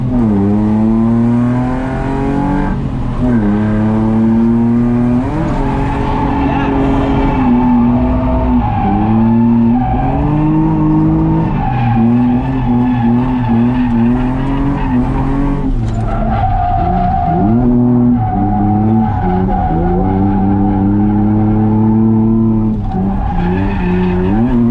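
A car drifts at a drift event, tires squealing loudly in long wavering screeches over a revving, surging engine, with repeated rises and falls as the car slides through turns, up close and with no talk.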